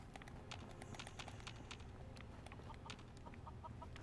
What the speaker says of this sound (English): Rad chicken. That's not gonna help me.